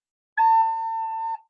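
A recorder holds the note A for about a second, a pure steady tone heard alone and close with a slight breathy onset.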